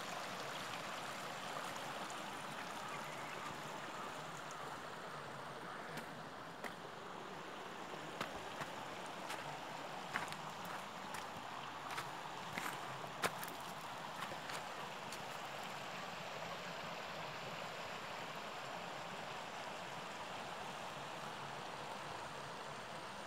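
The Ferozpora nala in Kashmir, swollen after the 2014 flood, flows in a steady, broad rush of water heard from a distance, with faint splashes and ticks scattered over the constant wash.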